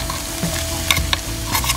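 Canned red beans and corn tipped into a hot frying pan and stirred, giving a steady loud sizzle with a few sharp scraping clinks, no voices.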